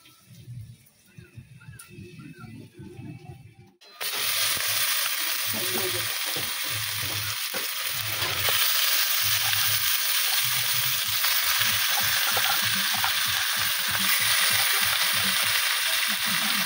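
Marinated mutton sizzles loudly in a pot over a wood-fired clay stove, with steady frying hiss and repeated scraping stirs; quieter cooking sounds come first before the sizzle rises abruptly and holds.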